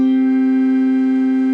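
Two notes a fifth apart sound together as one steady, even, clear tone that holds without fading for about a second and a half, with no other sounds around it.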